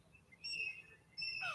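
Outdoors, a bird gives two clear, thin whistled calls, the second rising and sliding downward, fairly faint against quiet background hiss.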